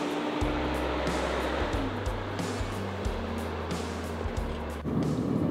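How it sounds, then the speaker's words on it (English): A GMC Sierra Denali 3500 dually heavy-duty truck towing a Keystone fifth-wheel trailer drives along, with a steady low engine drone and rumbling road and wind noise heard from inside the cab. "we're driving along in the Sierra Denali 3500 with a Keystone fifth wheel behind us"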